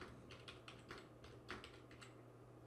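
Rapid keystrokes on a computer keyboard, entering text into a web form, a quick irregular burst of clicks with short pauses, close and clear with no one speaking.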